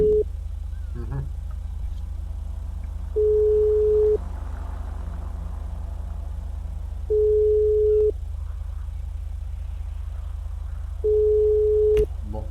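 Unanswered phone call in GTA RP, a steady electronic ring tone repeating three times at even intervals, each about a second long, over a constant low engine-like hum.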